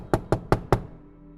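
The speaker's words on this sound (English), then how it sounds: "I hesitantly knocked on the door." Four evenly spaced knocks on a door, sharp and close, each with a short resonant decay, followed by quiet.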